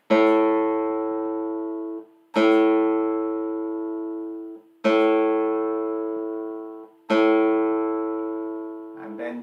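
An acoustic guitar A string is plucked four times during tuning, each note ringing clearly and slowly decaying before the next pluck, close and alone.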